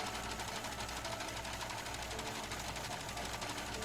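A sewing machine stitching in a steady, fast, even run of needle strikes with a low motor hum, close and continuous, with no voices.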